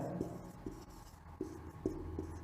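Pen scratching out a Class 10 maths solution on paper, a series of short soft strokes and taps at irregular intervals, close and quiet with no talk.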